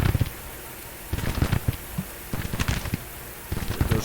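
Scattered musket gunfire crackles in a Civil War battle video game, irregular bursts of sharp pops and volleys from a distance, clustered in short rapid groups with brief lulls between them.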